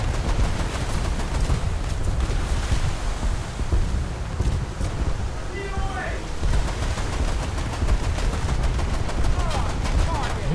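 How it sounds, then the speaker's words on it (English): Naval artillery and gunfire in a USS Cyclone game battle crackle and thud in dense continuous bursts over windy sea noise, loud and unbroken throughout. "my artillery softened them pretty well"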